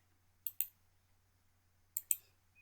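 Two pairs of sharp computer mouse clicks while working in GeoGebra geometry software, close and crisp, separated by about a second and a half of near silence over a faint low hum.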